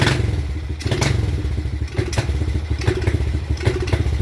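A Kawasaki KLX110 dirt bike running lean on too little fuel sputters and bogs at close range, its low rumble broken by uneven thumps and clattering bursts as the engine struggles and dies.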